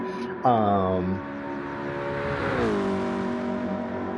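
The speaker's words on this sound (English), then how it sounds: "It's just because I'm in an automatic transmission, I'm over revving it." Corvette with an automatic transmission over-revving, a loud close engine note climbing and holding high for several seconds, with a brief rising whine near the start.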